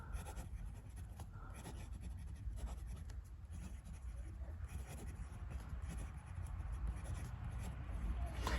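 A Ben Walsh Gravitas prototype fountain pen with a Bock nib scratches steadily across paper in continuous close, quiet strokes.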